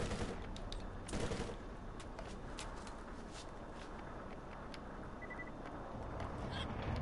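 Rapid automatic fire from an inaccurate SMG in a looter-shooter video game, dense continuous bursts at steady level throughout with no talking.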